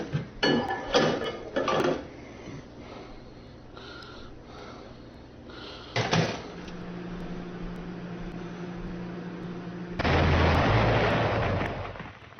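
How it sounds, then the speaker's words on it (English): Booming bomb-like explosion effects burst out in heavy bursts: several loud blasts early on, another around the middle, then a sustained roaring rumble near the end, with quieter hum between them. "I thought I was really getting bombed there"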